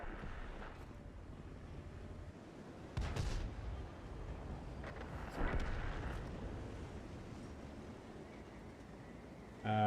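Air support strike explosions in a tank battle video game, low rumbling booms arriving in a few heavy thuds over a steady windy background, mid-distance and moderately loud, without talk.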